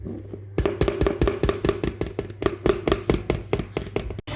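Cookie dough made with flour and butter is mixed in a bowl, producing a steady series of rhythmic thuds and taps, about three per second, close and distinct with no talk.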